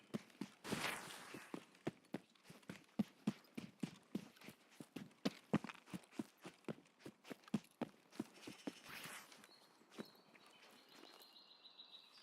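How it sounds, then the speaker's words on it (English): Steady, evenly spaced footsteps thud along in the video game Escape From Tarkov, about two or three per second, with light bird chirps in the background. "I keep thinking I hear footsteps."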